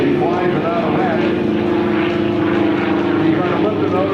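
A propeller aerobatic airplane flies a half loop and half roll at a Naval Air Station Lemoore airshow, its engine a steady, loud drone throughout with a commentator talking over it.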